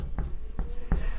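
A teacher writes on a board during a ray optics physics lesson, making three short, separated taps or strokes that are fairly soft and close. No one speaks.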